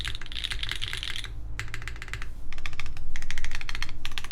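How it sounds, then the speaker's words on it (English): Typing on a Mode Loop TKL mechanical keyboard with Obscura switches and a carbon fiber build, a close, loud run of rapid keystrokes in dense bursts with brief pauses, no voices. "The Obscuras actually sound pretty good on this board."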